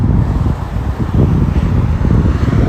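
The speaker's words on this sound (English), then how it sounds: "I cannot believe how much traffic is going by on this fucking road" Heavy road traffic streams past on a busy city street during a morning run, a dense continuous low rumble of engines and tires with wind buffeting the microphone, steady and loud throughout.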